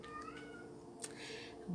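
A pet cat meows indoors, a few short faint calls rising over a quiet room with a low steady hum, with no talking.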